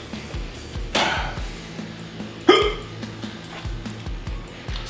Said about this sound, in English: Hiccups are coming.